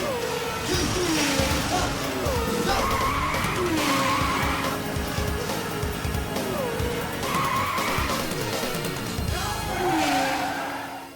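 Race car tires skidding and squealing in the arcade racing game Virtua Racing, with repeated wailing screeches over a steady engine roar, loud and continuous throughout.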